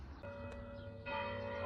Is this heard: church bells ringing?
yes